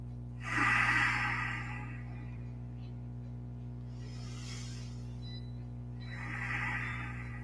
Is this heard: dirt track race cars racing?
no